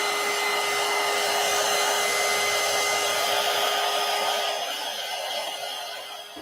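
Hair dryer blowing on shiny wet paint splatters in a collage project, a steady loud broadband whoosh with a constant whine that holds for several seconds and then eases slightly toward the end.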